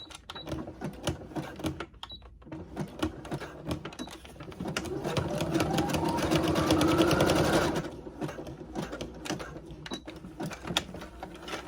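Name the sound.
sewing machine zigzag stitching through ribbon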